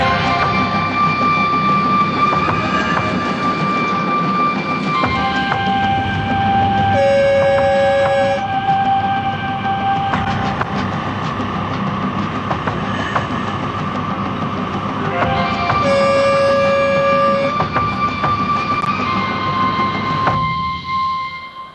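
The Sølvpilen train rumbles steadily across a bridge, a loud continuous rolling roar with sustained horn-like tones rising over it twice, fading at the end, without speech.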